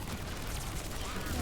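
Rapid gunfire in the Mass Effect 3 multiplayer video game, a dense, continuous burst of shots across the whole short moment, loud and steady with no pause.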